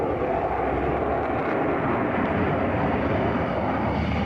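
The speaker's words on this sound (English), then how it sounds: "jet fighter streaks through the sky over France" A jet fighter streaks overhead at the Paris air show at Le Bourget, its engine a loud, steady, broadband roar sustained throughout with no voices.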